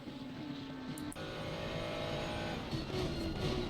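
A race car in a racing game drives through the Schumacher S at the Nürburgring, its engine droning steadily at close range with pitch rising and dipping through the bends, with no talking.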